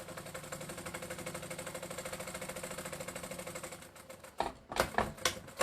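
A sewing machine runs steadily, stitching down a seam on a black duffle bag, a fast even mechanical chatter for several seconds before it slows and stops into a few separate clunks.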